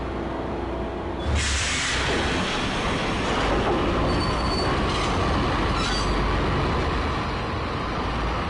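A train in the Max Payne video game rumbles along with loud, continuous wheel noise and a sharp squeal of metal, steady and close throughout with no talking.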